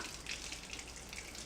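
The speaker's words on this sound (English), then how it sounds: "So I got my cucumber. I'll do a rough wash on that" Running tap water rinses a fresh cucumber at a kitchen sink, a quiet, steady hiss and splash that holds evenly with no voices.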